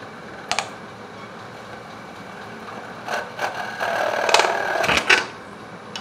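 A lathe tool hollow-turning wood for a kalimba makes scattered clicks and scraping bursts, building toward a louder stretch of cutting near the end.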